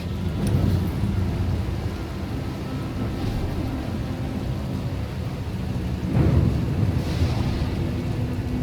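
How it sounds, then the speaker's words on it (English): Thunder and lightning storm in the video game Star Wars: Knights of the Fallen Empire, with low rolling rumbles over steady rain-like hiss and a sharp crack around the middle, loud and continuous. "The lightning strikes can be deadly out here."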